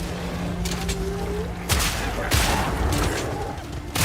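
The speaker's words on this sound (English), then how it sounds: "Real men shoot people with a shotgun" Shotgun blasts in a witch-hunting video game, several loud booming shots at irregular intervals over a droning background.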